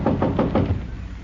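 Several firm knocks on a door, about four evenly spaced raps in quick succession, close and fairly loud, then the sound fades out.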